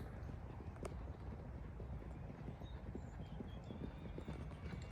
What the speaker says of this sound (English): Lots of horses.